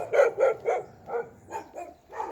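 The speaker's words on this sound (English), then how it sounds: "saying hello, dog in the neighborhood" A dog barks in a residential neighborhood in Prashad Nagar, a string of about seven rhythmic barks at moderate distance, fairly soft and heard alone.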